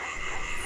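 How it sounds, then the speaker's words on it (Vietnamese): Frogs croak in rice fields at night, a brief steady chorus of overlapping croaks heard from a distance over a dense insect-like hiss, with no voices. "Đó là tiếng ếch nhái ộp ạp từ ngoài đồng ruộng vọng về,"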